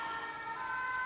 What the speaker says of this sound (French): C'est bruyant en ce moment. Les pompiers maintenant.